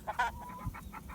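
A Blue Langshan rooster clucks in a farmyard flock, giving several short, fairly faint clucks in an uneven rhythm with a quiet outdoor background.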